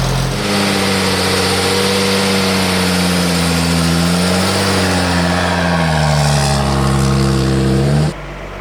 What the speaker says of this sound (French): Accélère. On va monter en régime un peu.